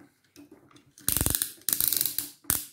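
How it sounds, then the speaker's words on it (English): Ratcheting shoulder joints on a Transformers Movie Masterpiece MPM-08 Megatron figure click loudly, close up, in two quick rapid bursts of about a second each, with one more short click at the end. "Very loud ratchets of the universal shoulders, plus an outward ratchet."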